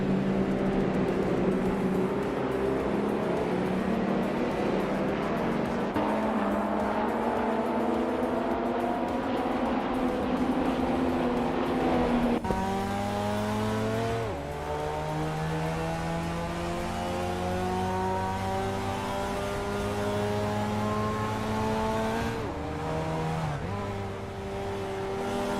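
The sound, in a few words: 1983 Porsche 911 SC race car driving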